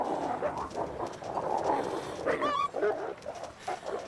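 Wolves in the video game The Long Dark bark and yelp over a steady, noisy game background, with a short rising whine partway through; the calls are moderately loud and partly masked.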